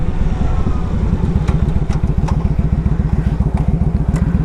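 A 2007 Yamaha V Star 1100 Classic cruiser idles loud and close, its V-twin engine thumping in a steady, lumpy rhythm with a light mechanical clatter on top.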